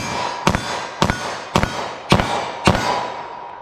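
Five sharp 9mm handgun shots fired quickly at a target 14 yards away, evenly spaced about half a second apart, each a loud crack with a short ringing tail, and no talking.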